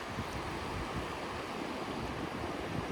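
Turbulent Charyn mountain river in Kazakhstan's Almaty region, a steady broadband roar of rushing water with wind mixed in, constant and unbroken throughout with no voices.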